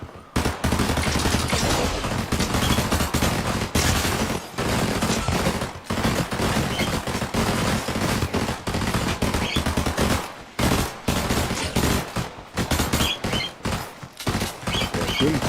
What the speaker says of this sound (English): Shooting somebody in the air is an easy thing.